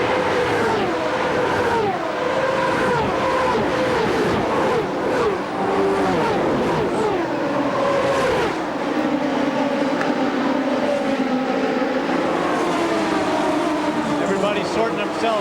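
Indy race cars at the 1996 Indianapolis 500, led by Buddy Lazier's purple number 91 car and chased by Alessandro Zampedri's red number 8, roar past in a dense, continuous pack with rising and falling engine pitches under a commentator's voice.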